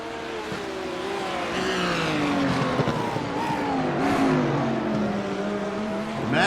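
A GT3 race car engine at Magny-Cours roars steadily, pitch sweeping up and down through gear changes and revs, loud and continuous with tire noise throughout.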